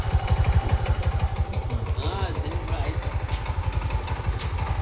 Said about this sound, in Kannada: ಗಾಡಿ ಸ್ಟಾರ್ಟ್ ಆಗ್ತೈತೆ, ಚಕ್ರ ಮೂವ್ ಆಗ್ತಿಲ್ಲ.